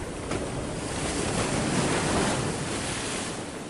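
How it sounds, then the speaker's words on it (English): Storm waves crash and surge over a ship, a dense, continuous roar of surf and wind holding steady and loud for several seconds with no voices. "The waves were crashing over the ship."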